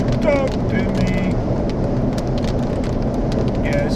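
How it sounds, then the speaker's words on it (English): Steady, heavy rain hisses continuously alongside low thunder, a dense wash of noise with a few brief high tonal calls rising above it. "Yeah, it's about to rain."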